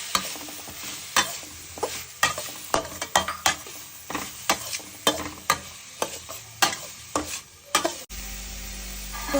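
Metal spoon scraping and stirring in a pan of sizzling ghee, about two spoonfuls. Steady frying hiss runs under irregular, close scrapes and clinks, then the sizzle settles to a low hum near the end.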